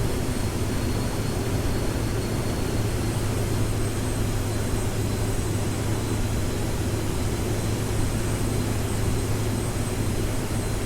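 A steady jet engine drone with a low rumble and broadband roar, continuous and fairly loud with no voices, inside a flight simulator on an IFR flight from Midway to Detroit as the throttle eases back.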